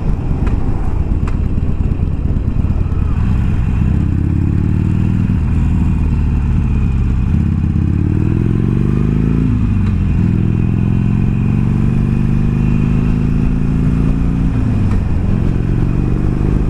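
A motorcycle engine roars loudly and close while riding, its pitch rising and falling through gear changes and throttle shifts, with steady wind buffeting underneath.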